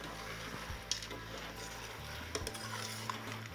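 Curried sausages being stirred in a pan over a camping stove, with soft scraping and clinking of utensil against the pan under a low steady sizzle, close by with no talking.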